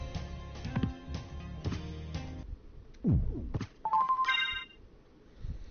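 A phone notification plays during a live stream: a series of bright electronic chimes and tones in short bursts, with a few quick rising blips near the end and no talking.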